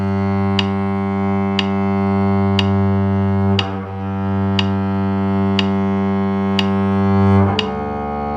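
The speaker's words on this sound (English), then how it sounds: "I'm going to start by playing long tones on the open string, starting on the G string" Bowed double bass sustaining a long, steady tone on the open G string, rich and even with strong low harmonics, a bow change partway through and a brief scratchy onset as the bow turns.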